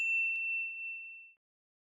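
A single clear notification bell ding, a bright metallic chime that strikes once and then rings out cleanly into silence. Heard alone.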